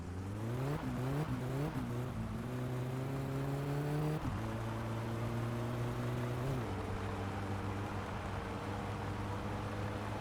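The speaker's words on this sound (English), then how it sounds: "driving this car is so much nicer than any of the other vehicles" Car engine heard while driving in the My Summer Car video game, a steady drone that climbs as it accelerates through several gear changes, then settles into a constant cruising hum.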